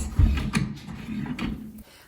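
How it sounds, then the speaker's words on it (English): An IKEA PAX wire basket drawer sliding along its metal rails inside a wardrobe frame, giving a short, fairly quiet rolling rumble with a couple of light clicks before it stops. "Now it's time for the PAX baskets and slides."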